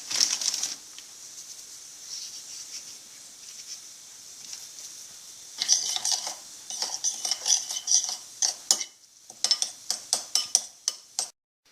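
A spoon scrapes and clinks against a bowl while stirring pressed garlic with a spoonful of oil and a pinch of salt for langoš topping, a soft steady rasp first, then rapid sharp clicking strokes, close with no talking.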